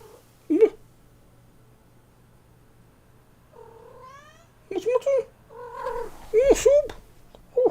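A pet cat makes several close, loud meows and yowling caterwauls in short bursts, separated by quieter stretches with a soft low hum underneath.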